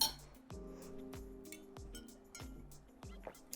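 Glasses clink together in a celebratory toast, several light chimes spaced through the moment, close and fairly soft with faint room sound and no talking.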